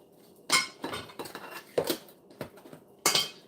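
Banana bread batter is stirred in a bowl with a utensil, giving irregular clinks and scrapes against the bowl, close and fairly loud, with no talking.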